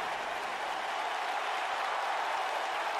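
A large wrestling arena crowd at a WWE pay-per-view applauds in a steady, distant wash of clapping and murmur that stays even throughout.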